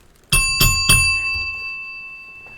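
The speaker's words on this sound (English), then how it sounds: "Here's my bell." A hand bell rings three quick times up close, bright metallic strikes whose tone lingers and slowly fades into quiet.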